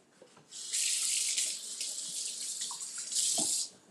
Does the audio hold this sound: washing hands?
yes